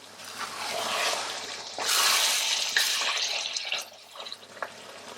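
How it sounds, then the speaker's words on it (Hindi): Half a cup of water is poured into chicken frying with onions in a hot pan, a close rushing splash that surges for a couple of seconds, then eases into a gentle bubbling sizzle. "अब इसमें आप डालोगे तकरीबन आधे कप जितना पानी"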